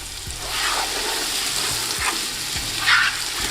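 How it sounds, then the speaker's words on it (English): Beef browns with spices in a pot, crackling and sizzling steadily while a spoon scrapes and stirs in several distinct strokes, close up and alone with no voices. "Now give this a really good mix and brown that beef a little."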